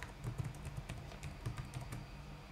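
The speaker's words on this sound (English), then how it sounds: "Type in your old password" Keys tapped in a quick, uneven run as an old password is typed on a computer keyboard, soft close clicks with brief pauses and no talking.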